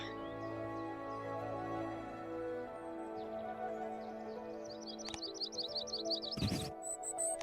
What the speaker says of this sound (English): Yellow-rumped warbler.